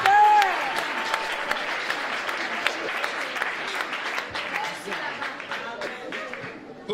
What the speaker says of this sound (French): Et on peut acclamer pour le Seigneur Jésus